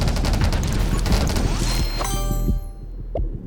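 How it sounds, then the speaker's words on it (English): A dense volley of rapid gunfire in the video game 20 Minutes Till Dawn rattles out with overlapping impacts and crashes, then breaks off suddenly into a quieter tail with a few tones. "You make up for the low damage by just the sheer volley of bullets going out."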